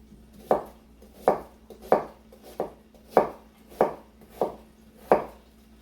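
A knife dices onions on a cutting board, giving eight crisp, evenly spaced chops in a steady rhythm, close and clear with no talking.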